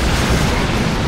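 Fire Prism tank shots in the video game Dawn of War 2, heard as a loud, dense burst of blasting, booming fire that stays constant throughout the short moment.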